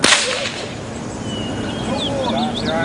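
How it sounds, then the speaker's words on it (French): A whip cracks sharply once at the start, followed by a sustained bed of crowd murmur and faint chirps, rendered as a sound effect for a flogging of thirty lashes. "est condamnée à 30 coups de fouet"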